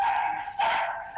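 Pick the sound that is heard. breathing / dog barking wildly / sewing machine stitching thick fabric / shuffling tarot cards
dog barking wildly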